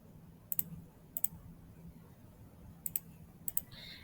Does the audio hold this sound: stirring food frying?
no